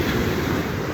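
Ocean surf rolling in at Myrtle Beach on a warm morning, a steady broadband wash of waves with some wind rumble, close and continuous with no voices.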